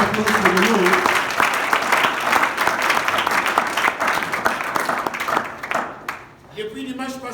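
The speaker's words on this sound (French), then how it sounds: "So now let's applaud for the Lord." A church congregation applauds the Lord during a bilingual French and English service, with dense, loud clapping filling most of the stretch before it thins out near the end, a voice speaking over and after it.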